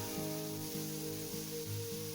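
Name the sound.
onions and tomatoes frying in pan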